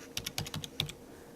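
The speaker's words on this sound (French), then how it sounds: "Je le saisis sur le clavier de mon ordinateur" A PIN code is tapped out on a computer keyboard, about eight quick, light key clicks close by in an otherwise quiet room.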